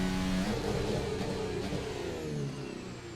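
A Formula 1 car engine in an F1 racing game at the Spanish Grand Prix accelerates hard, a loud, high buzzing whine that rises in pitch across gear changes, heard alone without talk.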